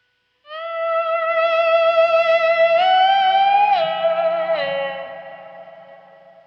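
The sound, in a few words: slide guitar 12th fret harmonic swelled with volume pedal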